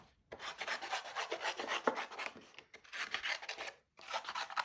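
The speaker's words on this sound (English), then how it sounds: "I'm going to roughly trim these out so we can start to colour them in" Scissors roughly trimming stamped card images for Christmas cardmaking, a steady rasping snip-and-rub texture in close bursts with brief pauses between cuts, no voices.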